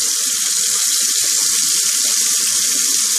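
Cold water running steadily from a tap for rinsing after shaving, a constant loud, hissing splash close by that never breaks, with no voices over it.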